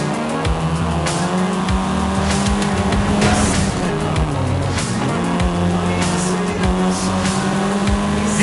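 A Volkswagen Golf R, the seventh-generation hot hatch, roars loudly and continuously in Forza Horizon 5, its engine note rising and falling through gear changes with bursts of tire squeal and skidding as it races.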